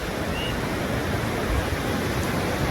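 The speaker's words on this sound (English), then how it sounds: "The waves are, when it's like this, it's very flat." Calm, flat waves wash gently onto a beach on a beautiful day, a steady soft broadband hiss of surf with no distinct breaking crashes.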